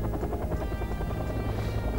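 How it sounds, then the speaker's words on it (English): Helicopters landing in the video game Wargame, a loud, continuous rotor drone with a fast throbbing chop beneath engine whine, filling the whole moment without pause. "The helicopters are landing."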